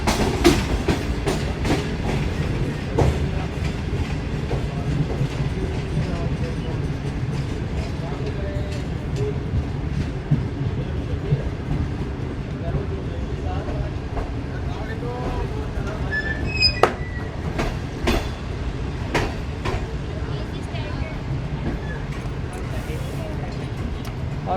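The Shalimar Express rolls steadily along the rails in Karachi, a continuous loud rumble with rhythmic clickety-clack wheel hits and sharp metallic clanks, heard from aboard over a long stretch.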